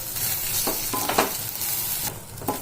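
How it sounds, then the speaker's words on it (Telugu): Bitter gourd fry with spices and dry coconut powder is stirred in a pan. Scraping spoon strokes come in uneven bursts over a steady background sizzle, with no voices. "ఎండు కొబ్బరి పొడి ఇప్పుడు అంతా చక్కగా మిక్స్ చేసేసుకుందాం."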